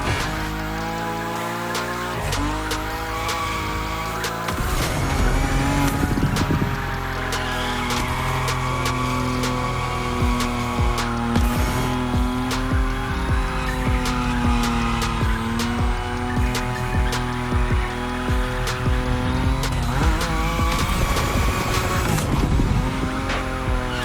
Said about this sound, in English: Your Nismo is powerful enough to slide along on its own when you're at high speed